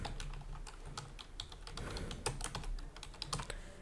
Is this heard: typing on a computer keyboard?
yes